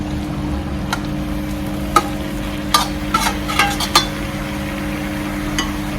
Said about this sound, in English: I'm going to put the ackee in now.